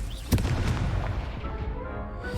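A Confringo spell explosion in the Hogwarts Legacy video game gives a single sharp boom early on, followed by a rumbling decay over continuous game background noise.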